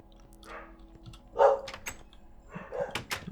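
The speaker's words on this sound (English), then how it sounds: "My dogs are going crazy" Dogs bark in a few scattered bursts, one louder yap standing out among fainter, somewhat distant woofs over a quiet room background.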